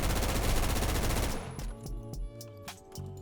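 Rapid automatic gunfire from a fast-firing weapon in the Roblox shooter Phantom Forces, a loud dense burst for over a second, then scattered lighter shots and clinks over game music.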